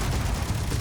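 Continuous gunfire in the Space Engineers video game, a dense, booming wall of low rumbling shots with no clear gaps between them, loud and steady throughout.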